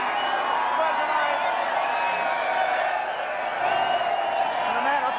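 A crowd at a 1999 Holden Racing Team motor racing awards ceremony cheers and whoops in a steady, continuous roar of voices and applause filling the room.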